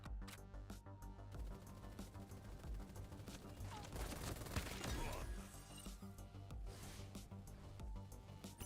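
Rapid gunfire from a pulse rifle in the video game Super Mecha Champions, a steady run of sharp repeated shots over game music and effects, with a voice talking in places.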